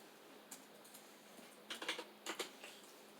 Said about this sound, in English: Let me see if I can type into the notes.